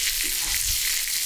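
A T-bone steak sizzles over a campfire with a steady, close crackling hiss that runs unbroken throughout.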